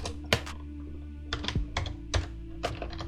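Keystrokes on a computer keyboard while Flutter code for a logger package is entered, coming in short irregular bursts of close, crisp clicks over a steady low hum.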